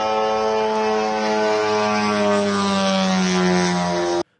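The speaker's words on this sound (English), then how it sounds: "Okay, that's the new drone." A new FP1 drone flying, its engine giving a loud, steady, tonal buzzing drone close by that holds evenly for several seconds before cutting off abruptly.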